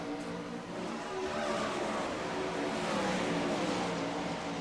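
410 sprint cars roar past in a sim racing game, a dense, loud engine drone with steady harmonic whine holding throughout, no voices.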